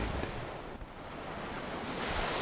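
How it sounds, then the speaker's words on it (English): Ocean waves wash steadily against a beach shore in a continuous broadband rush, with wind-like hiss and no distinct breaks, no voices present. "The waves whispered against the shore, a rhythmic lullaby that seemed to echo the heartbeat of the earth itself."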